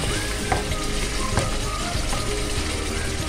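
Prawns lightly frying in a karahi give a steady, dense sizzle with occasional pops and crackles, loud and close, with no talking.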